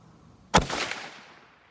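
A single sharp shot from a .32/20 Winchester Contender barrel handgun rings out outdoors, a sudden loud crack followed by a decaying rolling echo.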